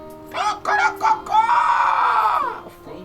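A human voice imitates a rooster crowing in a church sermon, with a few short rising calls and then one long, strained, drawn-out crow, loud and close.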